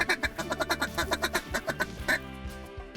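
Mallard duck quacking in a rapid rhythmic series of loud nasal calls, close by in a California Central Valley marsh during a duck hunt, then tapering off with a few scattered calls.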